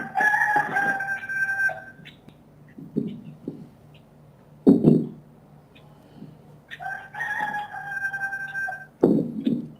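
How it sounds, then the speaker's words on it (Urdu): Roosters at a neighbours' house crow twice in long drawn-out calls several seconds apart, with scattered clucks, thumps and faint background murmur between them. "یہ جو آپ کے پاس مرغے بول رہے ہیں"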